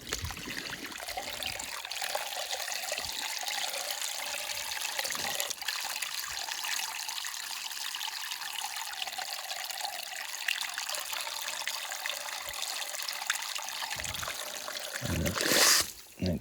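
Water flushes steadily through a cabin's water supply line, making a continuous rushing trickle that holds constant throughout, close by, with a brief louder gush near the end.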